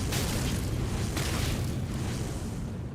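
A thrown fire attack erupts in Elden Ring combat, a sustained, loud, low rumbling roar that fills the whole stretch with no distinct separate blasts.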